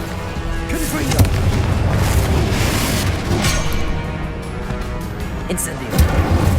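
Explosive Confringo spell blasts in the game Hogwarts Legacy, a steady run of booming bursts and pops over a rumbling battle bed, with voices talking throughout.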